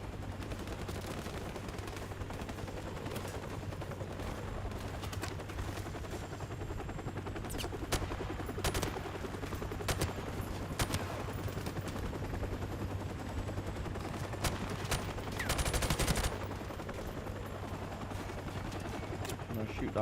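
Gunfire from an old industrial-style video game, steady bursts of shots and clatter running throughout over a constant low hum, with a louder burst near the end and a voice talking now and then.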